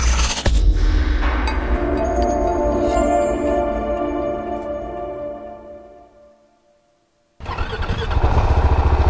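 A 2017 KTM 690 Duke single-cylinder motorcycle revving loudly up close, the engine note falling away to silence, then a sharp restart into loud, rough running.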